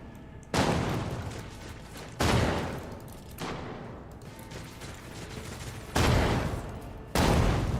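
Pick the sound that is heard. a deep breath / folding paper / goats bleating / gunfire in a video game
gunfire in a video game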